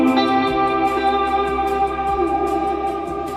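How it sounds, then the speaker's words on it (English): Electric guitar with effects holds two sustained half notes on the 8th fret of the fifth string, a steady, loud, ringing tone with no voices. "jump back to the 8th fret on your 5th string and hit 2 half notes"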